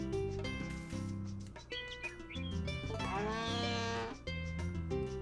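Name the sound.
cows mooing in the video game Harvest Moon: A Wonderful Life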